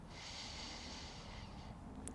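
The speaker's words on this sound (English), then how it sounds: "Nice big inhale" A deep, slow inhale during a yoga session, a soft airy breath drawn in steadily for over a second, close and quiet.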